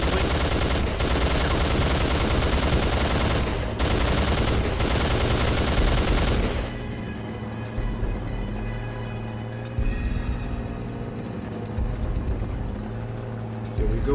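A mounted turret in Soldier of Fortune 2 fires in long, dense bursts for about six seconds with brief gaps. The fire then stops, leaving a quieter stretch of low rumble and scattered distant shots.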